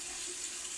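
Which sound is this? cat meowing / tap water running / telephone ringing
tap water running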